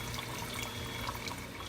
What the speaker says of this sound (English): just added the water